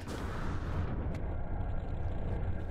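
A spaceship crashes in No Man's Sky with a dense, rumbling roar of impact noise, loud and sustained with a brief sharp crack partway through.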